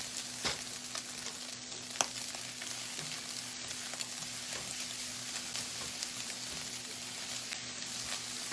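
Chicken fried rice with egg sizzles steadily in a pan, a continuous close frying hiss with occasional small pops and stirring scrapes.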